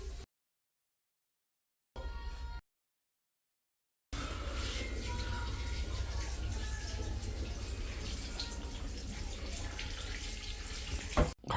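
A tap runs while someone washes their hands: a brief gush cuts off into silence, then the water comes back as a steady, close rushing stream that keeps flowing without a break.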